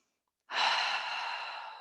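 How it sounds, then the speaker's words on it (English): A big, deep breath drawn in through the nose during a calm morning yoga session, a long airy inhale starting after a brief silence and holding steady for more than a second. "Take a big breath in through the nose."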